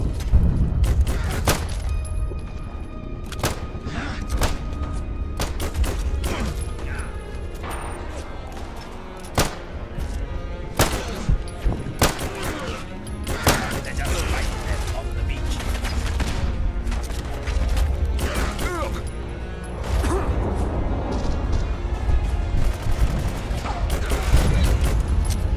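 Pistol gunfire in Fallout London, repeated sharp shots in scattered bursts across a busy game mix, with some voice and other combat noise around them.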